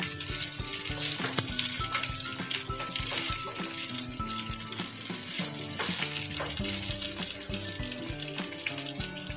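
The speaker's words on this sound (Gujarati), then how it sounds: "ધીમા તાપ પર મુઠિયાને સારી રીતે સાતડશું।" Farali muthiya dumplings frying in a pan with sesame seeds and curry leaves, a steady loud sizzle with constant crackle and stirring clatter throughout, close and continuous with no voices.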